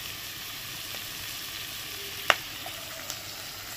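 Dark soy sauce poured into a hot pan while cooking prawn rice, giving a steady, even sizzle throughout with a single sharp clink partway and a faint tap near the end; no talking.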